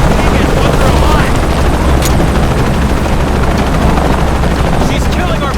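A helicopter in the video game Shadow of the Tomb Raider drones loud and constant with heavy low rotor rumble, mixed with gunfire-like bursts and shouting voices throughout.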